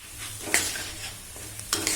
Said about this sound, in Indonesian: Goreng dengan cara diaduk-aduk seperti ini supaya kematangannya bisa merata.